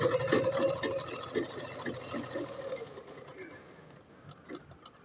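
A sewing machine stitching fabric for a nighty runs in fast rhythmic bursts close by, slowing and fading toward the end, with a voice talking over it.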